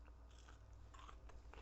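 A few quick crisp crunches of teeth biting into battered, coated KFC fries, close up and quiet, with a brief pause between bites and no talking.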